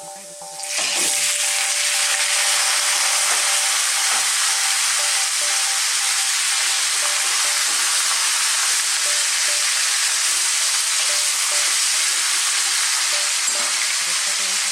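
Pork hitting hot oil infused with ginger, garlic and chilli, bursting into a loud, steady, close sizzle that holds continuously with faint clinks of stirring.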